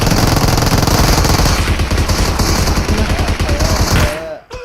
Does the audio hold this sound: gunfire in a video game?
yes